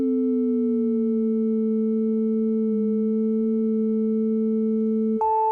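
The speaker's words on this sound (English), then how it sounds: "here's your filter now set to the note of A, and you can hear how it actually sounds" A steady, pure sustained 1974 Minimoog filter tone tuned to the note A, with a faint lower hum, holding pitch for several seconds before a brief click and a slight shift at the end.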